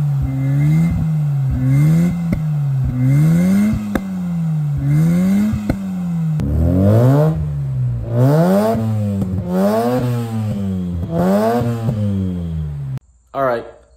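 A Mazda RX7 rotary engine fitted with headers revs repeatedly, each blip rising and falling in a rhythmic pattern that grows louder and higher toward the end, then cuts off abruptly.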